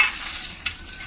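Sun-dried garlic rattling and crackling as it is handled, a dry continuous rustle with a few sharper clicks, close and alone.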